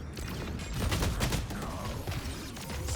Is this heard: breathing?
no